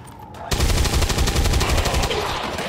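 Sustained rapid gunfire from the XCOM 2 turn-based strategy game bursts in after a brief quiet lead-in and stays loud and dense to the end.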